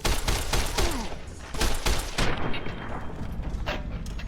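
Rapid gunfire cracks out in a Fallout: New Vegas fight against Viper gang members, several sharp shots in quick bursts, loud and close, easing toward scattered single shots near the end.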